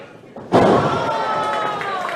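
A wrestler slammed face first onto the ring mat during a tag-team weapons match, one sharp heavy thud with ringing ropes and crowd noise trailing behind.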